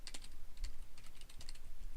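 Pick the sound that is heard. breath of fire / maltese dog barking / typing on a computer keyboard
typing on a computer keyboard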